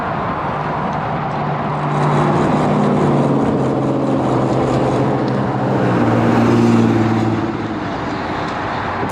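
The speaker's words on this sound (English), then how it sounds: "That's the guy who was behind us, that truck." A truck drives past cyclists on a road with a shoulder, a loud steady engine and tyre roar that swells as it passes close by, with wind noise throughout.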